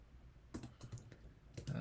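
Several quick, irregular keystrokes of code being typed on a computer keyboard, soft clicks clustered in short bursts, close by with no talking.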